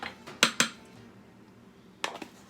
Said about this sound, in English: now we're gonna just mix it up